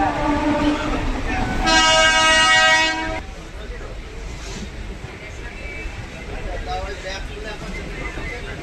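A train on the Sealdah to Duttapukur line sounds a loud, sustained horn blast, then rumbles past with a steady rolling roar and faint clatter, with a voice talking over it.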